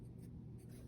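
A regular graphite pencil scratches grid lines across drawing paper, a soft steady scraping close by that runs through the whole brief moment on its own.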